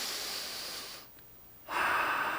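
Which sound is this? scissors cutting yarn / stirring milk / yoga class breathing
yoga class breathing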